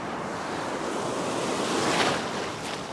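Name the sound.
ocean waves breaking on a beach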